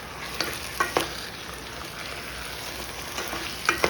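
Beef and vegetables stir-frying in a hot pan, a continuous loud sizzle broken by several sharp scrapes and clacks of stirring.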